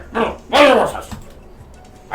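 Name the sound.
dog professor Sprinkles, dog vocalising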